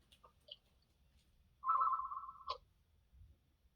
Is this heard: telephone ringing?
yes